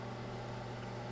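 A microwave oven runs while cooking a brownie in a mug, giving off a steady, even hum with a low fan drone and no breaks or speech.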